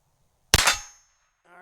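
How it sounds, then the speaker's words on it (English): A bullet from a J. Stevens pocket rifle with buckhorn sights strikes a steel target: one sharp, close metallic clang that rings out for about half a second and fades. A voice starts briefly at the very end. "I heard steel ring there"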